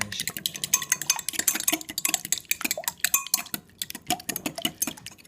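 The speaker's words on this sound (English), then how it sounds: "now you got the eggs in there, just mash all those eggs up like this" Eggs being mashed in a dish for microwave eggs, with rapid irregular clinks and scrapes of a utensil against the dish, close and busy, no talking.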